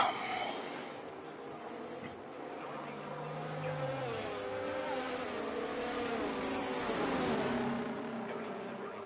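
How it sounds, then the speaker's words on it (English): The safety car in the F1 2023 video game at the Japanese Grand Prix circuit, a steady mid-level engine drone with gentle pitch sweeps as it cruises, no talk over it. "Safety car just trundling around."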